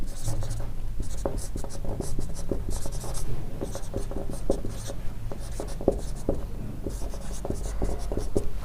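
A marker or chalk taps and scratches steadily on a board in close, busy strokes for the whole stretch, over a faint steady background hum, with no clear speech.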